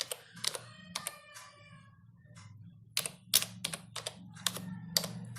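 Typing the word Principal on a computer keyboard in an Excel spreadsheet: bursts of close, crisp key clicks in quick clusters, a short pause in the middle, then more rapid taps over a low steady hum.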